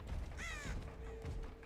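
A crow caws in a video game's Eerie of Crows, one harsh, raspy call near the start that rises and wavers, heard over a low hum of game ambience.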